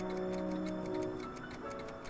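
Ticking clocks in Doc's lab in the Back to the Future video game, a steady regular tick-tock over a soft hum, with no talking.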